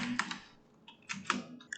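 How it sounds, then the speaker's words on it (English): Keys on a computer keyboard clack in a few short bursts with pauses between them, close but fairly quiet, with no voices. "let's start by typing doc type HTML at the top"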